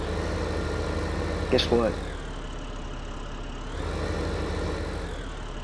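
A tractor engine in Farming Simulator idles with a steady low rumble and hum throughout, while a voice briefly speaks over it.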